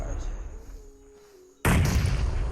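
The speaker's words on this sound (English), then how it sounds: "That's a grenade. It wasn't cooked." A grenade goes off in a video game, one sudden loud boom breaking in partway through and holding as a broad roaring blast over a low background hum.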